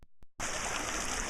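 Strong school water supply stream in January rushing steadily after a brief quiet start, a loud continuous broadband wash of flowing water.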